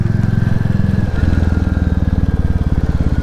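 Royal Enfield Classic 350 single-cylinder motorcycle pulling away on country lanes, a loud close thumping exhaust beat that briefly shifts pitch as it moves off, with steady rhythmic pulses and faint wind.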